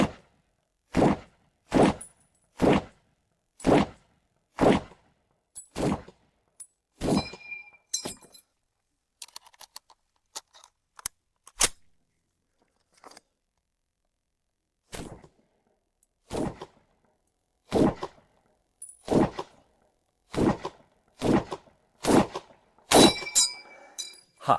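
Sharp, loud M1 Garand rifle shots fired in live fire, about eight in steady succession, a pause, then another fast series of roughly nine shots, each a crisp crack with a short echo tail.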